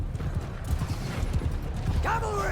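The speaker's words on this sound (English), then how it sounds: "My horse is running 300 miles an hour" Horse hooves pounding in rapid clip-clop under the din of a Bannerlord battle, with a rough low rumble throughout and a sharp whinny-like cry near the end.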